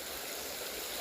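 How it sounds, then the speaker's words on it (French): Small river flowing in calm, windless nature, a steady continuous rush of water, even and close, with no other sounds. "Et là, je suis face à une rivière"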